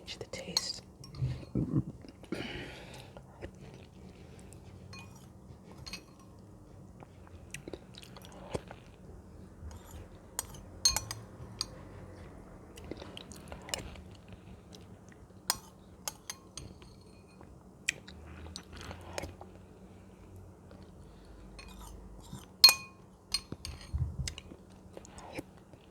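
Spoonfuls of homemade split pea soup eaten up close with cutlery, with soft clinks against the bowl, chewing and biting sounds spread through a quiet half-minute, now and then a faint whisper.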